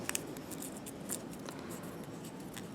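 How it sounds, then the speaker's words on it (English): Paper folded over and tucked in for an origami star: soft, close crinkling and rustling with a few crisp scraping ticks, quiet and continuous, no voices. "I'm going to fold it over, and then I am going to tuck it in"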